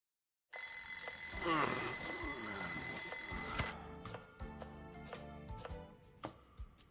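An alarm clock rings in the video game Lost Judgment, a steady bright tone lasting about three seconds before it cuts off, followed by scattered clicks and soft footsteps-like knocks.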